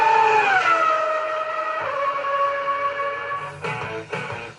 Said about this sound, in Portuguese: Sobe o giro do motor.